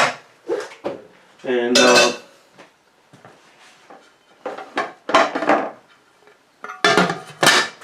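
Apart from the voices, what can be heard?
covering a pot of banana rum mash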